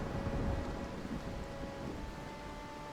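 A storm sweeps the sea in Mount & Blade II: Bannerlord, with a dense, steady roar of rain and wind and a low rolling rumble of thunder that is strongest early on. No one speaks.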